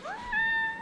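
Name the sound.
sick homeless kitten meowing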